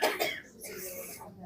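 Audience members coughing and clearing their throats during a meditation class, a brief cluster of coughs at moderate distance with voices around them.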